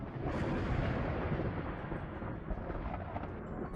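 A space storm in the game Outworld Station, a dense, steady roar of rumbling noise like distant thunder, loud and continuous for several seconds with no talk.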